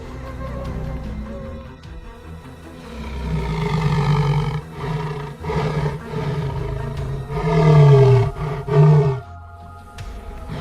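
A male lion roars a deep warning at a clan of hyenas, rumbling, grunting bursts rising and falling over several seconds, loud and close, with the strongest calls near the end.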